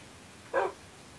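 A dog in the Minecraft video game gives a single short, clear bark, near and fairly loud against a quiet background.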